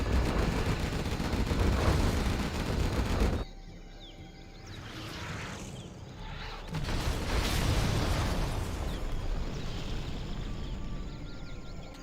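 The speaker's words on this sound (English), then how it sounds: "Artillery coming across" Artillery fire and explosions in Command & Conquer Generals: dense rumbling blasts fill the opening seconds, drop away briefly, then a second heavy barrage of booms and crackling impacts returns and rolls on.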